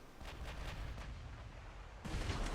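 Naval guns roar from battleships in a naval combat video game, a dense, continuous barrage of heavy booms and rumbling blasts that swells louder near the end, with no talking.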